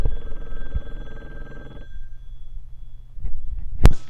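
A loud mobile phone rings in a classroom, a steady tonal chime with a buzzing tail for about two seconds that then cuts off, followed by low rumbling, a sharp knock and a faint hiss.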